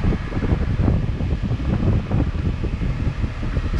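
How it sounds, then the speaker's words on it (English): Air-conditioning blower fan inside a 36-year-old Mercedes-Benz W126, turned up high, gives a steady, loud rushing roar of air that holds even for several seconds without voices. "The blower feels like a tornado."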